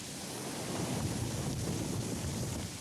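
Ocean waves wash steadily in the tidal zone at the edge of a lava flow, a broad, loud, continuous roar of surf mixed with wind, with no talking.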